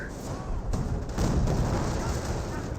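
A booby trap explosion in the Company of Heroes video game, a broad rumbling blast with layered booms and battle noise that swells and stays dense throughout, heavy and continuous.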